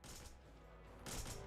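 Gunfire in the video game Devil's Third, rapid shots pumped into an enemy's ragdoll body, coming in two bursts of crackling fire at a fairly low level.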